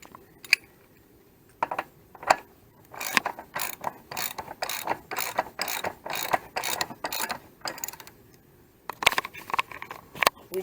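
A ratchet tightening the rear wheel on a Can-Am Spyder F3 gives up-close, rapid clicking in bursts of pawl ticks, several short runs and a long steady stretch of cranking, with no talk.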